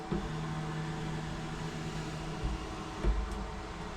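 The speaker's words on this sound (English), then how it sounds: "on my software, I'm going to click the option to home the laser" Laser engraver homing its head: a low steady machine hum with faint motor whine and a few soft mechanical clunks as the head moves into position, fairly quiet throughout.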